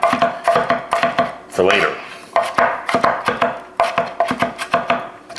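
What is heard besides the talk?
chopping ingredients small with a knife for shrimp salad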